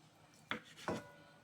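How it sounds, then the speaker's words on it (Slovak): A knife chops through tofu on a board, cutting it into small cubes with two quiet, distinct strokes about half a second apart, no voices present. "A potom to začnete na také kostičky krájať."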